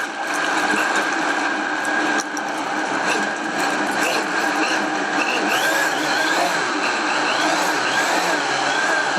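A blender whirs steadily while blending walnut paste for a Cantonese-style walnut soup made with cream, running at a slow speed with a dense, continuous mechanical hum and faint rattling, loud and unbroken throughout.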